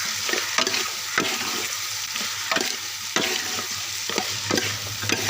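Pork frying with tomatoes in a pan while being stirred, a steady close sizzle broken by repeated scraping strokes of the spoon every half second or so, with no talking.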